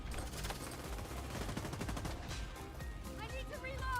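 Gunfire in The Division 2, rapid automatic bursts and dense overlapping shots hammering continuously, loud and close, with muffled voices underneath.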